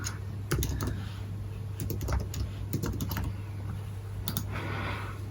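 Computer keyboard keys being typed in short irregular bursts, close and fairly quiet, with a steady low hum underneath and pauses between runs of keystrokes.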